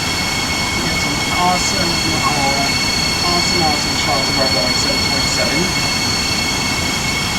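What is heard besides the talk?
Acela Express train running, from a train simulator video game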